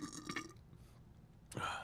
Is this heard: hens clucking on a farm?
no